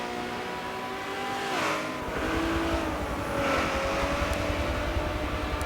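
A race car engine drones and shifts pitch through a ride-along lap in a racing video game, a loud, continuous whine rising and dipping as it accelerates and brakes, with no talking.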